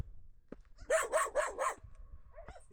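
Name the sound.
wild dogs barking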